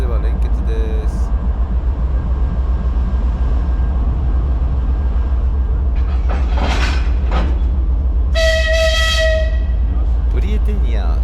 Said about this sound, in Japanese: それでは連結です。